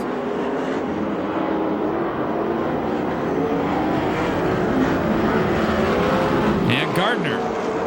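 USAC/CRA sprint car engines roar continuously around the Perris, California dirt oval, a loud, dense race-track drone with a car whining past near the end, while a track announcer talks over it.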